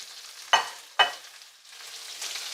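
Chilli garlic prawns fry in a pan with a steady soft sizzle, broken by two sharp clacks of stirring or turning before the hiss settles again, with no voices.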